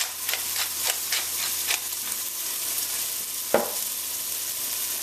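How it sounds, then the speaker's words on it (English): Onion, garlic, thyme and scallion sizzle steadily in a pan for Caribbean stewed lamb chops, with faint ticks of stirring and one sharper scrape, close and without talk. "all we want to do is move that around at the bottom of the pan here and sweat that down"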